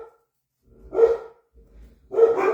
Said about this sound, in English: My dogs are not happy